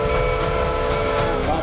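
A train rolling out, loud and steady, with a sustained horn blast over the rumble and clatter of the wagons, the tone holding throughout with no break.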